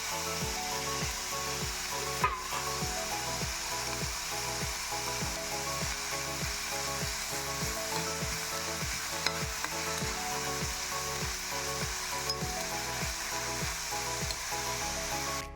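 A drumstick flower mixture is stirred and fried in a pan for a Konkani dosa, with a steady sizzle under a regular scraping rhythm of about one stroke per half second, continuous and close.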